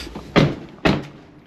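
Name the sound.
Tesla car door being closed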